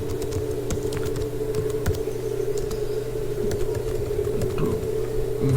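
Computer keyboard typing with close, uneven clusters of key clicks over a steady low hum, continuing through the whole stretch without speech.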